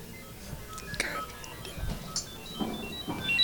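A cell phone goes off in the audience at a One Pocket pool tournament match, giving faint, distant electronic ringing tones in short bursts over quiet hall ambience.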